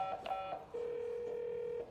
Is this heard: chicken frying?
no